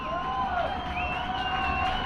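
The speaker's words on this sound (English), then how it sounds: "Crowd making noise." A football crowd at a varsity high school game makes a steady, distant roar and murmur of noise, sustained without breaks across the short stretch, with faint tonal sounds riding above it.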